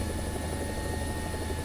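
A helicopter in War Thunder, similar to the Red Bull helicopter, throbs with a steady, loud rotor drone and engine whine that holds constant throughout.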